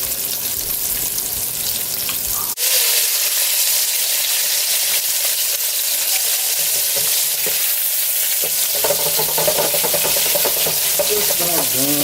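Battered chicken wings, coated in plain flour, fry in hot oil with a loud, dense, continuous sizzle and crackle, close up and unbroken by speech.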